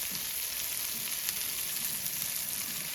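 New York strip steak fries in butter in a pan, giving a steady close sizzle and crackle with no talk.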